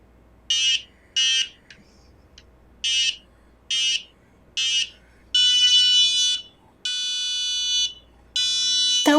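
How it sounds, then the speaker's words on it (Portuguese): A robotics-kit buzzer rigged for a hot potato game sounds loudly on its own: six short, evenly spaced beeps, then three longer sustained buzzing tones. "ele faz um barulho diferente e acende os LEDs indicando que queimou"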